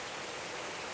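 Steady rushing hiss of a waterfall at an outdoor mini golf course, continuous and even with no other sounds.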